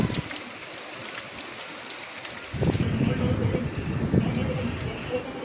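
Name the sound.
heavy rain falling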